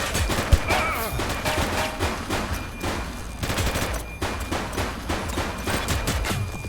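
Rapid gunfire in The Precinct police video game, a dense run of sharp repeated shots and bursts lasting throughout, loud and close with brief game voices mixed in.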